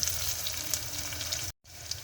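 Onions sizzling steadily in a hot pan for a mince, peas and potato dish, a dense continuous crackle with brief stirring sounds and a short dropout near the end.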